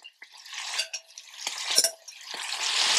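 Meat crowded into one big pan sizzles while a utensil stirs and scrapes it, producing uneven bursts of frying crackle that swell toward the end.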